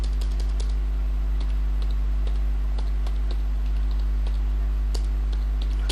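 Rapid, steady typing on a computer keyboard while entering text in Microsoft Word, with irregular clicking keystrokes close up over a constant low electrical hum.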